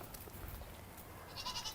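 Goats in a winter herd bleating briefly, a faint bleat standing out near the end over a low rumbling background, with no talk.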